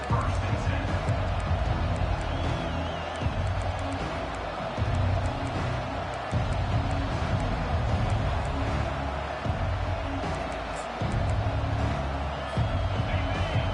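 A stadium crowd in the video game EA College Football 25 roars as a loud, steady wash of cheering and noise, with an announcer talking over it throughout.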